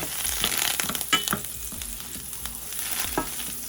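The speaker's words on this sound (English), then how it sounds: "we're going to put our butter in the pan and let it start melting before we add the salmon" Butter melts and sizzles in a frying pan, a close, crackling hiss with irregular stirring scrapes and bursts that are busier at first and then settle into a quieter sizzle.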